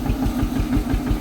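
A tractor engine running steadily in a lane behind a buggy, a low throbbing idle-like chug with regular pulses, close and continuous.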